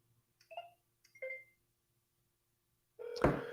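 Two short electronic telephone keypad tones sound, followed by a louder burst of mixed noise at the end.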